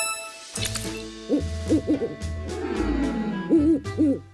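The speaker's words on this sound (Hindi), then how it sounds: "ये तो सिर्फ एक उल्लू है" An owl hoots in a series of soft, wavering calls at night, arriving in short clusters with brief gaps between them and staying close and clear, with a faint steady background hum underneath.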